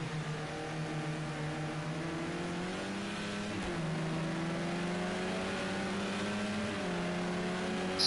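A BMW touring car's engine roars loudly and steadily during a charity race event, its harmonics shifting as it downshifts and accelerates again, with a brief gear-change dip midway.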